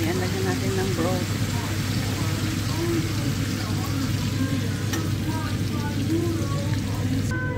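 Pork steak sizzles steadily in a pan after broth goes in, a loud continuous hiss and crackle like frying, with a person talking over it throughout.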